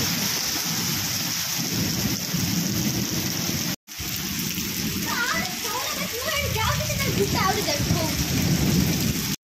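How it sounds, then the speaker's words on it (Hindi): Heavy rain pours steadily with strong gusting wind during a monsoon downpour, a loud, dense wash of noise that continues throughout, cut briefly by a short gap, with a voice talking over it. "मेघ जोर वर्षा होची पवन भी जोर होची"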